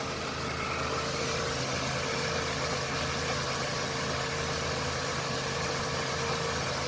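A 2007 Chevy Impala engine idling steadily after being restarted, a constant mid-low hum with faint vibration, unchanging throughout with no talk.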